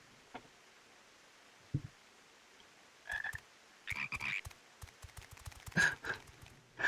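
Toads croak in the Final Fantasy XIV world, a scattered run of short rasping calls that start sparse and then cluster into quick bursts, moderately close with no talking over them.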